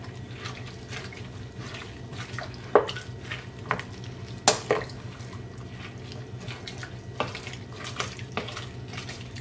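Piccalilli being stirred with an old wooden spoon: soft, steady scraping and sloshing of a wet, chunky mixture, with a few sharper knocks of the spoon against the pot.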